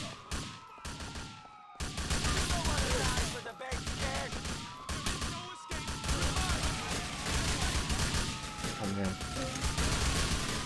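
Rifle fire in the video game GTA IV comes as repeated bursts of loud, close shots that keep cutting in and out over game music and ambience, with brief pauses between volleys.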